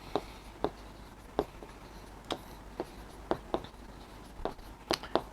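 An answer written by hand with a pen or marker, about a dozen short scratchy strokes in an irregular rhythm, close and fairly quiet against a soft background hiss.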